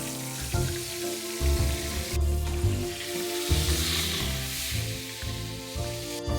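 A breaded chicken patty fries in a pan with a steady, loud crackling sizzle and bursts of popping oil throughout, close up and with no voices.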